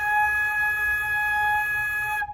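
A flute holds a single sustained higher A flat, a steady, clear tone played alone for about two seconds before stopping abruptly.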